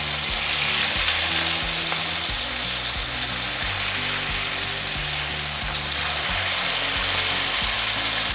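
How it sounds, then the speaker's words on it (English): Meat searing in a hot oiled pan for a one-pot dinner, a loud, continuous crackling sizzle with no talk over it. "we're just searing it"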